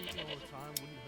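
Goats on a goat farm in the medieval village game Manor Lords bleat in a few short wavering calls over a steady low hum, with a single brief tick near the end.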